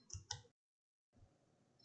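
Two quick, close computer mouse clicks in rapid succession, then a brief silence and faint room noise.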